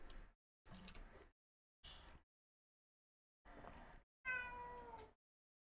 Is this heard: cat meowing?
yes